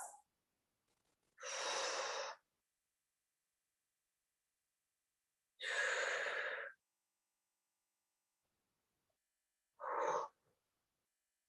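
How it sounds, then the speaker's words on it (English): Deep breaths taken during a hip and hamstring stretch: three slow, close, airy exhales spaced several seconds apart, separated by near silence, with no talking. "Give me 5 breaths."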